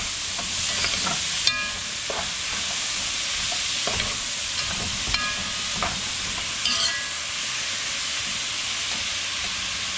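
Trinity vegetables fry in bacon and sausage grease, a constant hissing sizzle with occasional scrapes and clinks of stirring, steady and close for the whole stretch.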